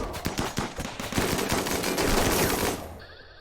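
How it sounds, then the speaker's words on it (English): Bomb going off in RimWorld, a dense burst of rapid cracking blasts that swells into a sustained roar before cutting out abruptly. "There's another bomb going off"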